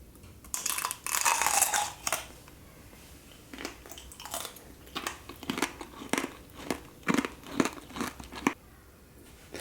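Crisp bites into a caramel-coated candy apple, each one a sharp crack of hardened caramel followed by close crunchy chewing, repeated in an irregular rhythm with no talk.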